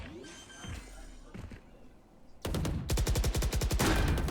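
Rapid automatic gunfire from a Valorant match at a LAN esports event, with sparse shots early, then a loud sustained burst of evenly spaced rounds in the second half and a faint hint of talk beneath.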